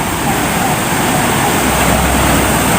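A river rushes steadily past a campsite bank at Bumi Perkemahan Purbalingga, a loud, continuous broadband wash of flowing water close by with no pauses.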